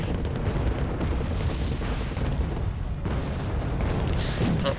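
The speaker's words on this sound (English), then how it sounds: "On the side, Abrams are firing," Abrams tanks in Wargame: AirLand Battle fire repeatedly amid a dense battle, heavy booms and blasts overlapping in a continuous rumbling barrage.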